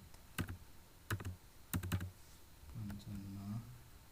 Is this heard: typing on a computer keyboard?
yes